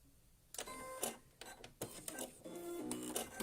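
Home sewing machine top stitching a double zip pouch, bursts of fast mechanical whirring and rattling stitches separated by short pauses, close but fairly quiet.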